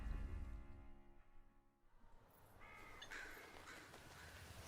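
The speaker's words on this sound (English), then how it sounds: "Crows. Okay. We got crows." Crows cawing within a tense musical score in the Elden Ring DLC gameplay trailer, a few harsh calls rising after a low sustained tone, faint and distant in the mix.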